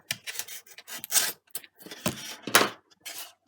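The end of a foamboard piece for a Pitts Special chuck glider is bevelled, giving a close, dry rasping and scraping in short uneven strokes with brief pauses.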